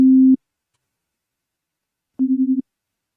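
A synthesized jungle sub bass: a deep, pure low tone plays briefly, then after a pause returns as a quick run of four or five pulsing repeats, loud and clean with nothing else around it.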